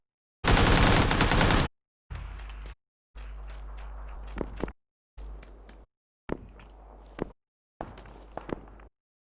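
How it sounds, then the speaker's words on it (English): Gunfire in the PUBG video game: a long burst of rapid automatic fire, then several choppy segments of game sound with scattered distant shots and footsteps, broken by brief silent gaps. "He's firing at me."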